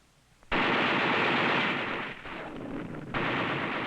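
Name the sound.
mortar round firing with a big bang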